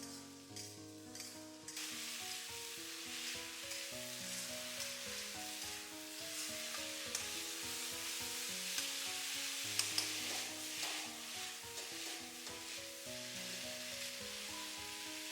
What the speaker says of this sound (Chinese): 快速的给它翻炒均匀，让豆角充分的入味